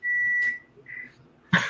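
A microwave oven beeps while cooking: one sustained electronic tone, then a shorter softer beep, followed by a sudden brief clatter or noise at the end.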